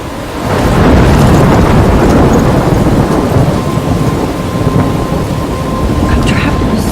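Rolling thunder and steady rain from a storm in the video game Life Is Strange, a loud continuous rumble that swells early and holds, with rain hissing throughout.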